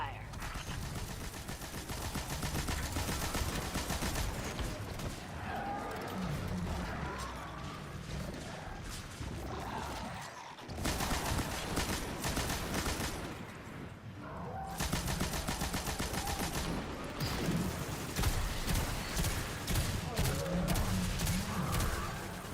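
Heavy weapon fire in the shooter game Destiny 2, with dense, sustained bursts of rapid gunfire and explosive crashes filling most of the stretch, loud and continuous apart from a couple of brief pauses.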